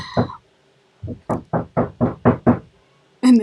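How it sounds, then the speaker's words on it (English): A door is knocked in a series of about eight sharp, close raps, one at first and then a quick steady run, with a final knock after a short pause. "Sorry for the knocking."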